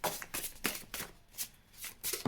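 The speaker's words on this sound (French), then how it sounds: "Ces cartes ne sont pas évidentes à battre." A deck of tarot cards is riffled and shuffled up close in quick, papery bursts, about six brisk flurries with short pauses between them, and no voice.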